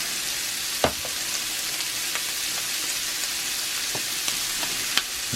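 Sausage and butter sizzle steadily in a cast iron pan, a constant crackling hiss with occasional sharp pops and light scraping taps, no voices.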